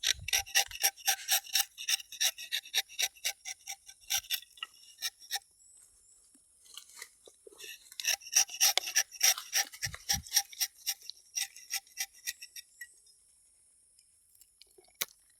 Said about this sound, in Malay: Hari ini aktiviti kita potong getah saja.